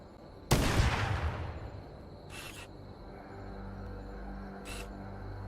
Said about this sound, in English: I'm gonna shoot the ones on the turrets first,